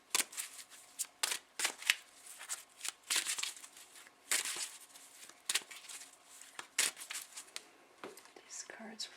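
Wisdom for Healing oracle cards by Carolyn Meese being shuffled, a close run of quick papery riffles and slides in irregular bursts with short pauses between them.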